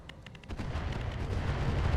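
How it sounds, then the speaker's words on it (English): Artillery fire from a Bull Shark mech in the game RogueTech, a few sharp cracks at first, then a heavy rumbling barrage that swells and rolls on without a break. "The Bull Shark is going to drop its artillery, I think, still on the Hatamoto Chi."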